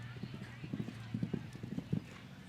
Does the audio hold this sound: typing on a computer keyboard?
no